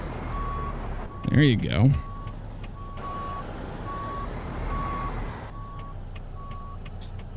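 A simulated American Truck Simulator semi truck backing a long trailer gives a steady series of evenly spaced reversing beeps over a low engine idle, with a brief air hiss early on and someone talking briefly.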